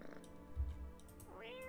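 A cat in a video game gives a soft meow that rises near the end, preceded by a low murmuring rumble like purring, fairly quiet and up close with nothing else competing.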